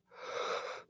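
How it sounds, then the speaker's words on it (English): A single human yawn, a breathy airy exhale that swells and fades in under a second, close and moderately loud with no other sound. "I apologize for that yawn"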